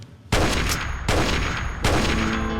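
Gunfire from the Fallout 4 video game: three sharp, loud shot bursts about 0.75 seconds apart, each with a short echoing tail, and no talking.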